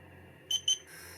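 A Cheerson CX-23 drone's handheld controller sets off its vibration motor, two short close buzzes in quick succession followed by a steadier faint hum over a quiet room background.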